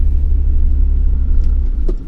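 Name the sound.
car engine rumbling while driving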